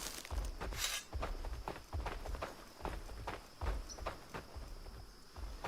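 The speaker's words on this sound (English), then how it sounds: "Thought I heard extra footsteps." Footsteps in the video game Valheim, a steady run of soft thuds repeating about every half second, close and fairly loud with no talk over them.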